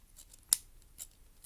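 One crisp snap of plastic as replacement third-party UMD case parts click together, then a softer second click about half a second later, close up and with no talking.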